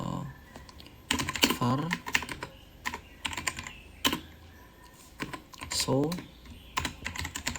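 Typing on a computer keyboard, clusters of quick clicking keystrokes in irregular bursts, close and crisp, with someone speaking quietly between and over the taps.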